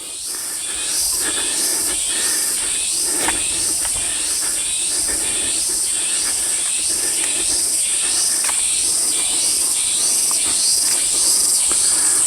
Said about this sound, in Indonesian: biasanya saya bisa mendengar suara serangga begini ya